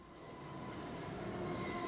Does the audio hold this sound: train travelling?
yes